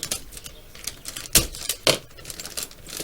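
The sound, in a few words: cutting open the packaging of an MPC Star Wars speeder bike kit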